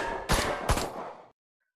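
Two sharp, separate single shots from an Irish Army AUG rifle on a video game firing range, fired semi-automatic with a short pause between them, each ringing out before cutting to silence.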